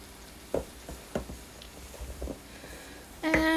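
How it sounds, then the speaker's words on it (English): Apples cooking in a pan are stirred with a spoon, giving scattered knocks and scrapes against the pan under a low sizzle that swells louder at the end. "don't forget to stir your apples"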